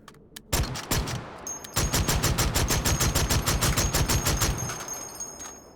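An A12 automatic shotgun in the VR shooter H3VR fires a few opening shots, pauses, then unleashes a long rapid string of about twenty evenly spaced loud blasts that trails off at the end.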